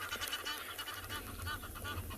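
A spur-winged goose honks in a rapid run of harsh, repeated calls at moderate distance over steady low background noise outdoors on a sunrise safari.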